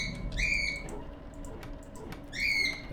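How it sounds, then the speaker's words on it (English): Two loud squawks from pet birds, one near the start and one near the end, rise over a low steady background hum indoors. "I think my birds are a little grumpy that I'm still streaming."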